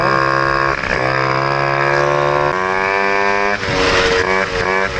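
A moped engine fitted with a Polini kit and a Dell'Orto carburettor running rich, revving loudly and steadily up and down close by with no voices over it.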